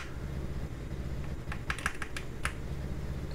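Fast bursts of typing on a Hall effect computer keyboard, a quick cluster of crisp key clicks near the middle over a low steady hum.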